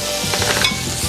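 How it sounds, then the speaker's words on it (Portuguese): Onion, garlic and chicken fry in a pan, giving a loud, steady sizzle with a brief stirring scrape partway through. "enquanto ele vai fritando a cebola e o alho, ó, o frango, a gente só dá uma seladinha"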